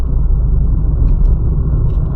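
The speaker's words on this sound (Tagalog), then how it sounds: "nagkakatikip-tikip na yung mga sasakyan sa sobrang busy ng daan" Steady rumble of car traffic on a busy road in Japan, a dense continuous low drone of engines and tyres heard from close by, loud and unbroken with no voices.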